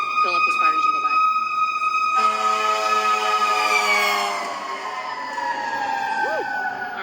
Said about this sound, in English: there's a fire engine coming, so hold on 1 second